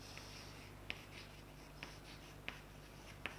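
Chalk or marker writing on a board during a maths lesson, with four short, sharp taps and scratches spaced roughly a second apart over a steady room hum, no voices present.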